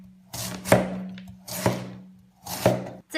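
A knife slices through peeled pumpkin on a board in three evenly spaced, solid thunks, each close and trailing off before the next, with no talking.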